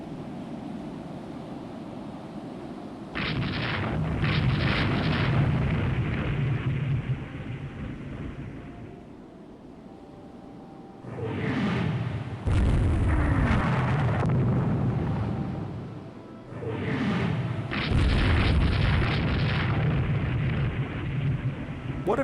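Naval guns firing in the Rule the Waves II naval battle game, heavy booming blasts with a long rumbling roar, several loud bursts spread across the stretch over steady low background noise.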